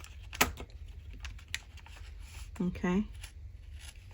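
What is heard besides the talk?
cutting folded paper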